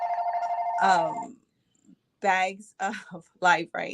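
A telephone rings with a steady electronic trill for about a second, then stops as a person begins talking nearby.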